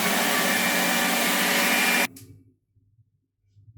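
A food processor grinds sesame seeds in a loud, steady whir for about two seconds. It stops abruptly, and faint handling noises follow.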